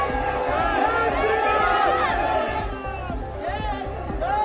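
A large crowd packs the road as a convoy passes, with a dense roar of cheering and shouting voices over a steady rhythmic thumping beat, loud and continuous.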